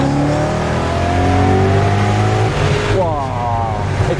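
Close, loud engine of a BMW M5 E39 sedan pulling hard, its steady harmonic drone climbing in pitch, then easing and rising again as the revs build once more; no speech over it.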